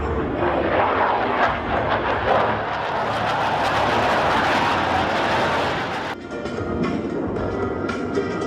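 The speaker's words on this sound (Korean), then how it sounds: "일곱 대의 항공기가 부채꼴 모양으로 펼쳐지는 장관을 그리며 에어쇼의 피날레를 장식했다" Black Eagles aerobatic jets of the Republic of Korea Air Force roar loudly overhead at an air show in Singapore, a sustained broadband engine rush that swells then abruptly drops to a thinner distant whine.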